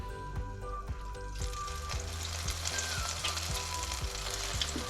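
Pork belly fries in hot oil for crispy skin, a dense, close sizzle with rhythmic stirring or scraping beneath it and no one speaking.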